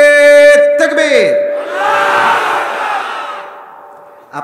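A crowd of married men at an outdoor Islamic sermon gathering shouts takbir in unison, first the loud sustained call of a lone voice, then a massed roaring response that swells and fades away.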